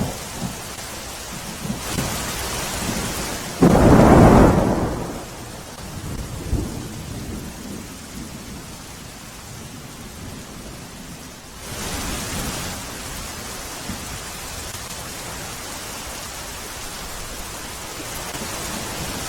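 Heavy monsoon rain pours steadily as a dense hiss across the whole stretch, broken by a loud, close thunder crack and rumble early on, with no voices.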